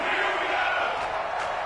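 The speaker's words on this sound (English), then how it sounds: "The crowd getting into it as we come up on a big 3rd down" Stadium crowd roaring in a football video game ahead of a big third down, a broad, steady wash of cheering that swells slightly near the end.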